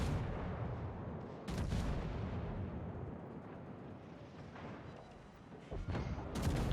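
Ship guns firing a salvo in a naval video game: deep, rumbling booms erupt over a constant roar of battle noise, with several heavy blasts spaced a few seconds apart.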